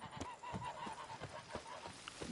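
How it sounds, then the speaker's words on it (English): A goose in The Witcher 3: Blood and Wine honks repeatedly in quick, irregular bursts, faint and slightly distant over a soft game ambience. "Goose."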